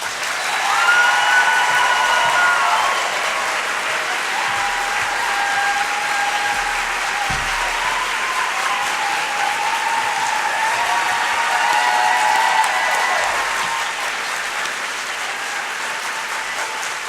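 An audience at a distinguished speaker event applauds to welcome Gloria Steinem to the stage, a sustained, even wash of clapping that holds steady for the whole stretch, full and roomy with faint crowd noise underneath.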